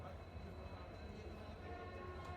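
Inside a passenger train travelling from Lucknow to Bareilly, a steady low rumble and rolling rattle of the moving carriage fills the background continuously, even and close throughout.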